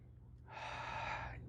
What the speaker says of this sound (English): deep breath